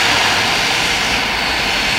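Inside a West Coast passenger plane in flight, heading for Vancouver, a loud, steady engine roar with broadband cabin hiss fills the space, unbroken and close.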